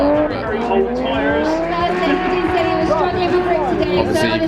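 Cars drifting at Japfest, a large Japanese car show in the UK, with high wailing tire squeal and revving engines heard from the stands, continuous and moderately distant, with crowd murmur beneath.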